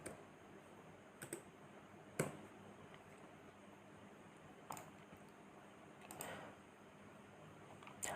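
Quiet, sparse keystrokes on a computer keyboard as Excel is typed into a search, a few isolated clicks and short clusters spread across the stretch, close but faint, no voices.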